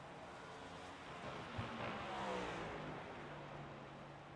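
Race car engine roaring continuously at Sonoma Raceway during a late-race lap, a steady mid-pitched drone that swells slightly midway, heard from trackside at moderate distance.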